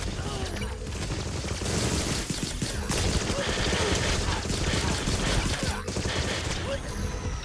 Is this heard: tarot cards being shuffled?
no